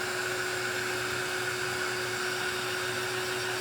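A dryer blows steadily on glue coating terra cotta pots, a loud, continuous close-up whine and whoosh with a constant tone and no pauses.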